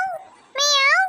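A cat meows twice up close: a short, lower mew, then a longer, rising and falling meow that is loud and clear, with no talk over it.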